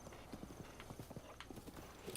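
Horse hooves clip-clop steadily and fairly close in Zelda: Breath of the Wild, a quick trotting rhythm of repeated hoof strikes with a faint whinny-like texture among ambient game sound.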